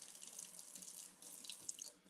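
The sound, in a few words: hot water running from a kitchen tap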